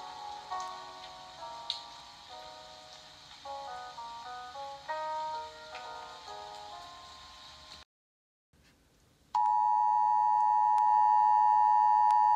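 Emergency Alert System broadcast for Illinois: a series of stepped electronic beeping tones, then a brief silence, followed by the loud, steady, sustained attention signal tone.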